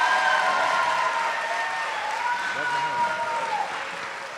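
An audience applauds steadily to welcome a comedian home, a broad wash of clapping that holds loud and even throughout, with a voice speaking over it.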